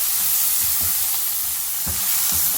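Onions sizzling and frying in a pan for tomato upma, a steady hiss with soft stirring scrapes throughout, no talking.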